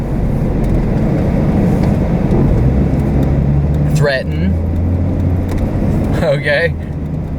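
Cars pass on a road outside, a continuous rushing traffic roar that swells and fades as vehicles go by, with someone speaking briefly over it.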